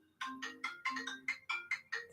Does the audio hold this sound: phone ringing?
yes